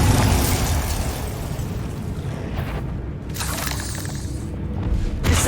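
The Bombarda spell in the game Hogwarts Legacy detonates as a loud shattering explosion with crashing debris, rumbling on and fading, followed by a second burst near the end, no voices.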